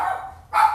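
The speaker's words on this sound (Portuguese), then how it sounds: "Cachorro, porque eu tô em casa." A dog at home barks twice in quick succession. Both barks are close and moderately loud over a low indoor hum, with no talking.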